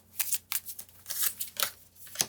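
Tarot cards being drawn and shuffled by hand, a quick series of crisp papery riffles and slaps, about half a dozen close bursts in uneven rhythm, no talking.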